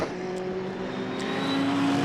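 Mercedes GT race car in the GT Cup at Donington, a steady engine note rising slightly as it passes close by, alone without talk.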